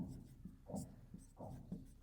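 Pen writing math working on paper during a decimals lesson, a soft scratchy scrawl in short strokes with a few brief pauses, close and quiet, no talking.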